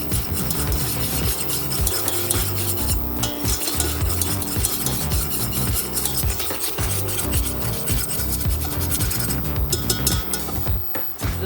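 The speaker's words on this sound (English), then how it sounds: "We are going to make a blonde roux, so we're not gonna cook this for more than 3 minutes." A whisk scrapes and stirs flour and fat into a blonde roux in a pan, a continuous busy rasping and soft sizzle with steady rhythmic strokes throughout, close and fairly loud, with no talk.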